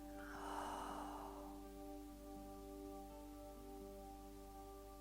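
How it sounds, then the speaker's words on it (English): A person breathing in slowly through the nose and then exhaling softly, a single close, quiet airy breath near the start over a faint steady hum. "Breath in through the nose, it has that enlivening quality."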